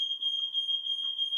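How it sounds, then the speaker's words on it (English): A smoke or fire alarm being installed indoors sounds as a continuous high-pitched electronic tone that stays loud and steady throughout, with no talking over it. "Fire alarm is going off."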